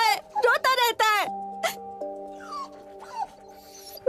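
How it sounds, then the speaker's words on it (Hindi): A dog whimpers and yelps in high, wavering cries, loud and close, repeated several times under a steady musical drone, with a voice briefly present. "ये बेचारा सारी रात भौंकता रहता है, रोता रहता है"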